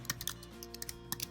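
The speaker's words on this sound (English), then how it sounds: "typing hard today" Quiet, quick clatter of typing on a computer keyboard, irregular clustered keystrokes close by with soft pauses between bursts.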